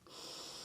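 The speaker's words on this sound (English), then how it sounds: "Big inhale in." A short, deep inhale drawn in during a restorative breathing exercise, a brief airy hiss that rises quickly and holds steady, close to the mic and fairly quiet.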